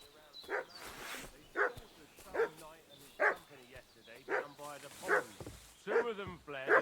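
A dog in the video game Kingdom Come Deliverance 2 barks repeatedly in a steady rhythm of loud, close, regular yaps, with some bursts doubled.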